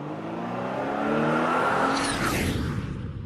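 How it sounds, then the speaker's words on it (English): A car drives past, its engine rising in pitch as it accelerates, loud and near, then the sound sweeps away with a whooshing fade. "Are we gonna hear like a car, a door slam, a car drive, and then a plane fly?"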